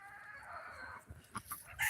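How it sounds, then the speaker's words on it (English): A guinea fowl chased around a farm gives a quick burst of harsh, clucking squawks near the end, following a brief rustle and some faint background noise. "Guinea fowl are hard to catch"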